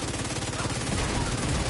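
Dense automatic weapon fire rattles through a firefight in The Division 2, rapid and loud, with overlapping bursts and no break across the short stretch.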